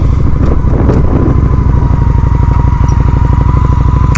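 A Honda Shadow 750 motorcycle engine runs steadily and loud throughout, with a continuous pulsing low rumble while riding, and no talk.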